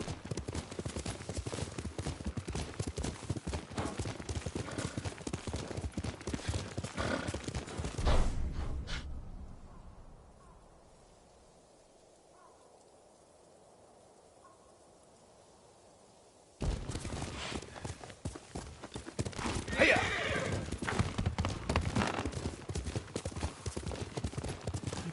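A horse gallops with rapid, driving clip-clop hoofbeats while being ridden in Ghost of Tsushima, breaking off into a quiet lull before the hooves resume, with a faint whinny near the end.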